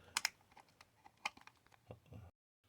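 An old cassette tape player being pried open by hand: a handful of close, sharp plastic clicks and clacks, with the loudest snaps near the start and a few softer knocks after.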